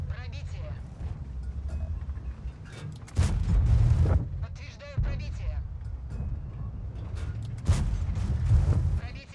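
Heavy tank cannon shots in World of Tanks, several deep booms spaced seconds apart amid rumbling engine and mechanical battle noise, with someone talking throughout.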